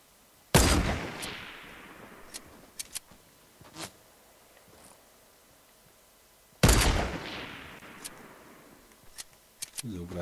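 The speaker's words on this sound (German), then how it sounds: "Kann man schon mal schießen. Ah, er schießt zurück." Two loud, sharp gunshot blasts with trailing decay ring out in a Fortnite duo tournament match, several seconds apart, scattered with smaller clicks and clatter in between.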